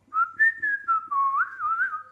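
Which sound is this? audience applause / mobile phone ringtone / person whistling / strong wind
person whistling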